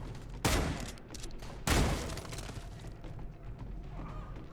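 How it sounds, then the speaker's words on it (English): Two heavy, booming shotgun blasts in the video game Redeemer, each followed by a rumbling tail, loud and close with no speech over them. "Ooh, shotgun."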